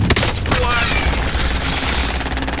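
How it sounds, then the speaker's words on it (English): An enemy precision airstrike in Call of Duty Warzone lands as a loud, dense barrage of rapid explosions and gunfire-like cracks that runs without a break through the whole stretch, with game voice callouts faintly mixed in. "Enemy precision airstrike."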